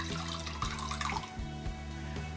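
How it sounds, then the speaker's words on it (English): A small splash of water runs into a bowl of apple cider vinegar, a brief, close trickle and gurgle of liquid over a steady low background hum. "I'm going to put just a little bit of water in, maybe not even 1/8 of a cup"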